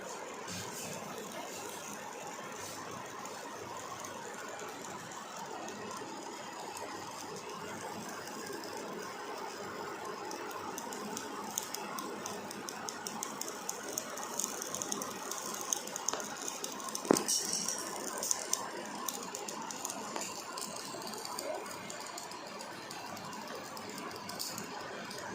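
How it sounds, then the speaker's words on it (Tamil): Burning wire inside an induction stove gives a steady, low-level crackling and ticking, with faint irregular pops layered over a continuous hiss. "இது எல்லாமே அந்த ஒயர் எரியுதுல, அதோட சவுண்டு தான் உங்களுக்கு வந்து நான் ரெக்கார்ட் பண்ணி இந்த வீடியோவில் காமிச்சிருக்கேன்"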